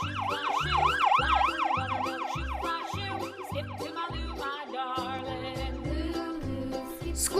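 A toy ambulance's electronic siren wails in fast, repeating up-and-down sweeps over a steady pulsing beep pattern, loud and close, switching to a different warble partway through.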